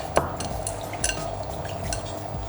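Jollof rice stirred in a pot with a metal spoon, giving soft scraping and occasional clinks against the side, steady and close, with a faint cooking hiss underneath.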